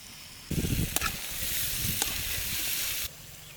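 Boiled chicken drops into hot oil with onion paste for a curry leaf chicken fry, bursting into a loud, close sizzle that hisses steadily for a few seconds, then cuts off abruptly.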